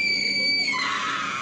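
A single sustained scream, loud and close, holding a high, shrill pitch for over a second with a slight shift partway through.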